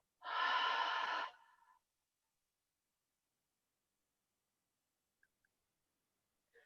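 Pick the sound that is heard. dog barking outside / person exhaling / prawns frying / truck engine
person exhaling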